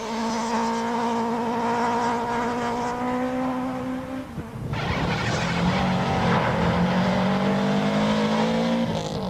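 A rally car blasts off the start line of a final stage, its engine roaring loud and close, revving up through a gear change with a brief dip midway before climbing hard again.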